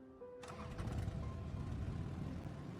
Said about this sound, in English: I'll ride a motorcycle.